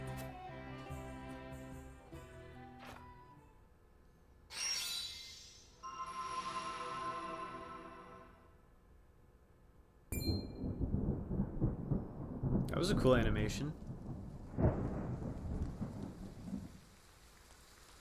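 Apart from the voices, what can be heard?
thunderstorm and rain in the video game Triangle Strategy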